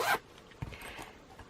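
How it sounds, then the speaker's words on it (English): A zipper on a small children's party bag is pulled in one quick, close rasp, followed by faint rustling as the fabric settles. "it zips really nicely"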